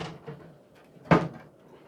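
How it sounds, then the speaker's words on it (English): Small door of a food dehydrator being fitted back on, a soft scrape followed by one sharp plastic clack, close and brief. "Put our little door back over it"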